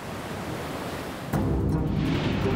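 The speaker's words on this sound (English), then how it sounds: "The Independence of the Seas glides through the ocean as steady as a rock." Ocean waves wash around the cruise ship Independence of the Seas out at sea, a steady broadband rush of surf and wind that swells louder and fuller about halfway through.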